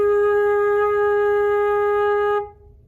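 A flute holds a single sustained low A flat note, clear and steady for over two seconds, then stops abruptly, leaving faint room noise.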